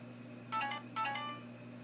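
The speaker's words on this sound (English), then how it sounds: "I'm getting notifications." Two short bright electronic chime bursts sound in quick succession, each a cluster of high tones, over a steady low hum, with no one speaking.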